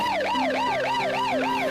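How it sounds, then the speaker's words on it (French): Ambulance siren wailing in a steady rising-and-falling cycle, loud and continuous, with no voices, at the scene of a road accident where injured people are being evacuated. "l'ambulance évacue les autres accidentés, mais Frère Branham"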